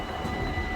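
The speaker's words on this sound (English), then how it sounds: "This is the train from Germany" A train from Germany rumbles past in Enschede, the Netherlands, heard as a steady, loud, close roar of rail noise with no speech.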